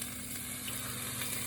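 Jumbo lump crab browning in a pan gives a steady, dense sizzle and crackle, close and continuous throughout without any talking.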